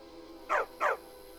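Dog in the Skyrim video game giving two quick, close barks in succession against a quiet background hum.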